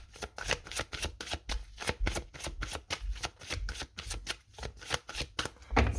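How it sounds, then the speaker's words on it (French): Oracle cards being laid out on a table: a rapid, continuous run of crisp flicking and slapping card sounds, close and fairly quiet, with no speech. "Je vais poser donc les cartes pour chaque domaine."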